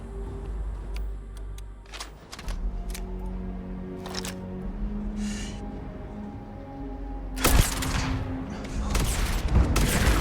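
Sniper rifle shots in the video game Starfield ring out among scattered clicks and other game noise, with a louder burst near the end.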